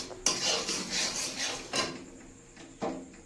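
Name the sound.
wok being taken off the stove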